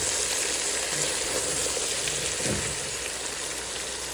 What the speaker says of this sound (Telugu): ఇదంతా పన్నీర్ ఫ్రై అవుతుంది. ఇక్కడేమో వెజిటేబుల్స్ ఫ్రై అవుతుంది.